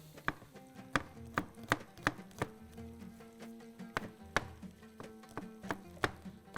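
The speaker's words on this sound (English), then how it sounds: "I'm going to chop some garlic. I'm going to slice it." A kitchen knife chops and slices garlic for a Bahraini dish, about a dozen crisp, close strikes on a cutting board in an uneven but steady rhythm, with no talking.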